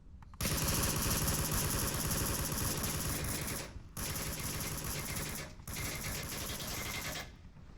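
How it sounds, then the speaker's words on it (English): Sustained bursts of automatic gunfire in the virtual reality shooter Onward, loud and continuous, broken by two brief pauses. "Suppressing / distracting fire coming out"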